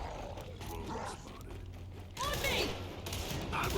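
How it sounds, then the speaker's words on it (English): A weapon reloads in the video game Gears 5: metallic clicks and mechanical clatter ring out over a dense, busy game soundscape, briefly loud and close, with no one talking. "I'm reloading."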